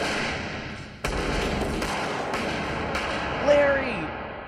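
Sharp gunshots from Reservoir Dogs, several abrupt cracks spaced a second or so apart over a tense backdrop, with a voice talking across the scene.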